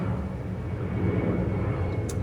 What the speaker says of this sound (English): sorry, there's an airplane coming by